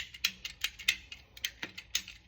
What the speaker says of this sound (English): The best tool that I've found to cut this hose is a PVC pipe cutter